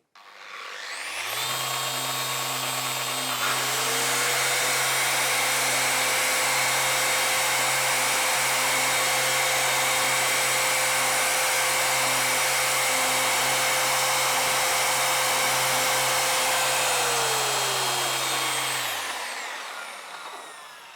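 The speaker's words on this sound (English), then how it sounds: "If you can hear, the ventilator started, but again it handled both of the tools just good without any problems." Steady whine of a Bluetti AC200MAX off-grid power station's cooling fan running loud and constant for about twenty seconds, droning under the roar of two power tools running at once, then winding down at the end.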